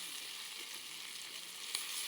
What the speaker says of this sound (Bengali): রান্না চলতেছে, আলুর দম রান্না চলতেছে